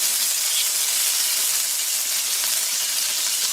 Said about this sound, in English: I'm just going to sear these off.